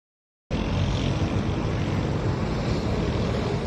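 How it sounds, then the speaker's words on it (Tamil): An Air India passenger plane arriving at New Delhi airport from Dubai produces a loud, steady engine roar that starts abruptly after a brief silence and holds constant throughout. "துபாயிலிருந்து புறப்பட்ட ஏர் இந்தியாவின் முதல் விமானம் புதுடெல்லி விமான நிலையத்தை வந்தடைந்தது"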